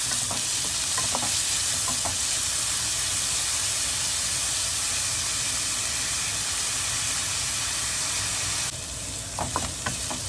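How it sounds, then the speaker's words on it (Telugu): Chopped onions sizzle and hiss steadily in hot oil in a pan, a dense continuous frying noise with occasional stirring clicks, close and fairly loud with no talking. "ఆనియన్ కూడా వేగనిద్దామండి. కొంచెం గోల్డెన్ బ్రౌన్ షేడ్కి వచ్చే వరకు వేగనిద్దాం."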